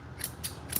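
Grooming scissors snip through a Shih-Tzu's fur in three quick, crisp, close cuts, with a soft, steady background between them.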